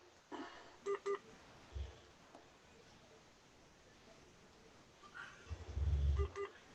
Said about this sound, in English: I think I'll try and call his cell phone